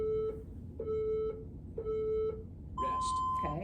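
A workout interval timer beeps three times at a steady pace, followed by a longer higher tone marking rest, clear over a low room rumble.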